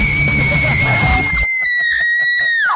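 A woman lets out a loud, sustained high-pitched scream that carries through the whole moment, with a brief burst of crowd noise underneath at first before her shriek rings out alone and then breaks off.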